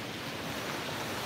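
Surf washing onto a beach at sunrise, a steady broadband wash of waves with some wind noise on the microphone, continuous and fairly faint throughout with no voices.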